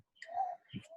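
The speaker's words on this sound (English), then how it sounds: "that's a bird." A single bird gives a brief chirp outdoors, a short clear tweet with a second quick note, faint and slightly distant.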